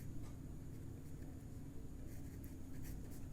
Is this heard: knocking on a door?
no